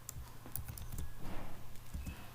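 Quick, light keystrokes on a computer keyboard as a formula is entered into a Google search, a short irregular run of clicks heard close and fairly faint.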